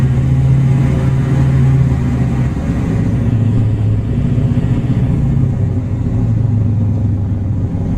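Loud, close aircraft engines rumble continuously in the IL-2 Cliffs of Dover flight game, a deep droning roar with shifting low tones as the revs change.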